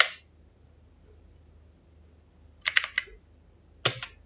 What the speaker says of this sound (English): I don't like to type much.